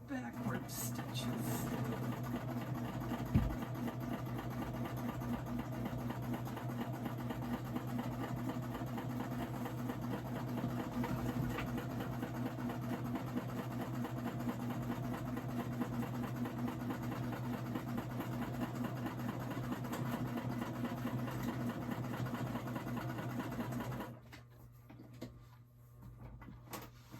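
A domestic sewing machine stitches steadily in a continuous mechanical whir for most of the clip, including a few backward stitches, with a person talking over it before the motor stops near the end.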